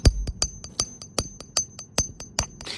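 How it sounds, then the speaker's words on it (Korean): Sharp, evenly spaced hammer blows, about a dozen in quick succession, drive a wedge anchor into a drilled, silicone-filled hole at the base of an amateur radio tower. The close, ringing metallic strikes play alone with no talking. "그 상태에서 망치를 때립니다."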